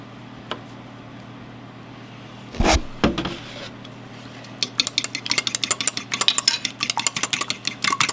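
A beaten egg being mixed with a tablespoon of milk in a bowl, starting with a couple of knocks and clatters, then a quick run of rapid, rhythmic clicking strokes, close and fairly loud.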